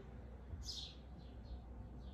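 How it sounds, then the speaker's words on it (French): Baby birds perched on a metal bar give a few faint, high chirps, one clearer call followed by softer repeats, over quiet background noise. "j'ai des petits oisillons"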